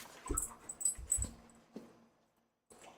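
A pet puppy whimpering and whining, soft high-pitched cries in several short bursts with faint snuffling, quiet and close with no talk.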